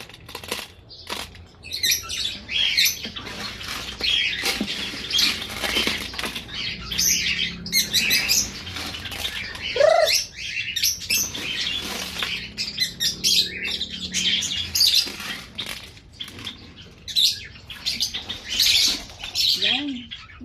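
A flock of pet pigeons flutters and flaps during feeding, with repeated bursts of wingbeats mixed with soft chirps and coos, busy and close throughout.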